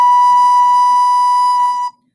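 A single recorder note B, blown gently, holds as a clear, steady, pure-toned pitch for about two seconds and then stops cleanly, played alone.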